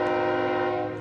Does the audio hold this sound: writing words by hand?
no